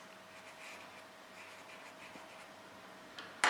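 A pencil scratching a line across paper while making a simple paper mini album, a soft close scraping stroke ending with a sharper tap.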